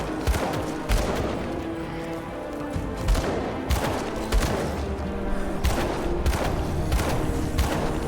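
A gun fires repeatedly in a dark fantasy action RPG, producing a steady run of punchy shots and thuds at a roughly regular rhythm, loud over dense combat noise.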